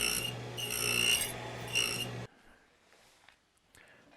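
Rasping, scraping passes of a cutter clearing the center of a guitar nut slot guided by a building template, a steady close grinding for about two seconds that stops abruptly, followed by faint scattered clicks.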